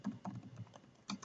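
A short burst of typing on a computer keyboard, a handful of soft, close keystrokes tapping in an uneven rhythm with no voices.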